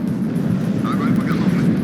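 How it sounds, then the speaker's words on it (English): An F-4 Phantom jet roars overhead in the strategy game Warno, a loud, steady broadband rumble of engine noise sustained throughout, with faint higher whines drifting in and out. "the Phantom is flying over entire Warsaw back TA"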